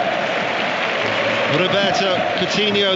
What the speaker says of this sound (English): that's why you're hearing the Olays in the distance